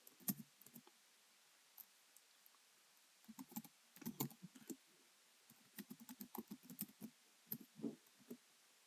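Someone typing a .NET version command on a computer keyboard, with quiet, close key clicks in short irregular bursts and brief pauses between them.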